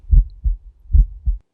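A deep, close heartbeat in an audiobook scene, with two distinct lub-dub pairs thumping in a slow, even rhythm and silence between them.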